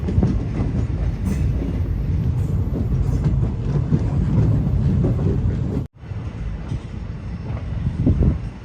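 Passenger train on the Tinsukia to Ledo line in Assam, rumbling steadily with dense wheel-on-rail clatter close by, loud throughout, with a brief drop near the end before the running noise resumes.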